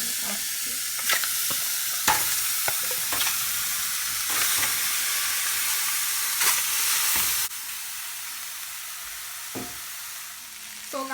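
Oxtail searing in an already hot pot for a Jamaican oxtail dish, a loud, steady close sizzle with occasional crackles and stirring knocks that drops to a softer hiss partway through.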